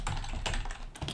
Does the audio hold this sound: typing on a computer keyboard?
yes